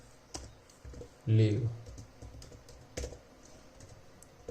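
Typing code on a computer keyboard, with light scattered key clicks and one louder burst of keystrokes, under someone talking in Hindi.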